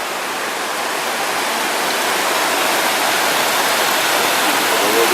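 Rushing river water in the Rivière Grand-Mère gorge on Réunion, a loud, dense, continuous roar of flowing water filling the space with no break.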